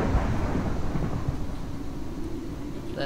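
Thunder rumbles through a lightning storm in modded Minecraft, a broad low roll that starts loud and slowly fades over a steady wash of rain, with no voices.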